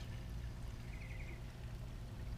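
Premixed 40-to-1 gas and oil poured from a dripping can into the fuel tank of a Craftsman chainsaw, a soft, faint, steady trickle of liquid running for a couple of seconds with no talk.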